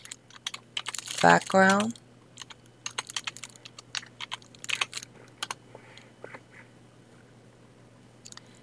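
Rapid keystrokes clatter on a computer keyboard nearby, in irregular bursts of clicks, while a person speaks briefly over the typing.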